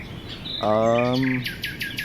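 A forest bird calls loudly and close by: a harmonic, rasping call followed by several quick, sharp chirps, heard on its own.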